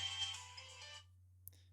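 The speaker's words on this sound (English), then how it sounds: "It's ringing." An outbound call rings on a FlyingVoice FIP14G IP phone as a soft electronic ringback tone. The tone sounds for about a second, then cuts off into near silence, and a faint click follows.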